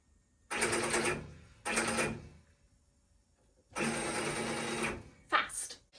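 A Happy Japan HCU industrial embroidery machine runs fast in bursts, with loud mechanical rattling and stitching in several separated runs and short pauses between them.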